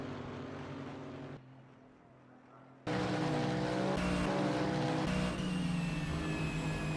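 GT3 race cars, an Aston Martin and a Mercedes, battle in a racing video game at Riverside International. Engines roar loudly and continuously, dipping briefly quieter before surging back with rising, revving tones.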